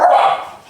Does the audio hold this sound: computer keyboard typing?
no